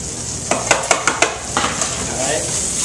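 Mushrooms frying in plenty of oil in a pan, a steady sizzle with a burst of sharp clicks and scrapes as the pieces are turned over, followed by continued crackling.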